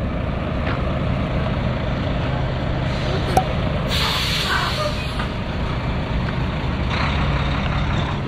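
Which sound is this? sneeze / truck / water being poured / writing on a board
truck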